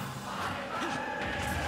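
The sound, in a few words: in-game crowd chanting Pyra Mythra, Super Smash Bros video game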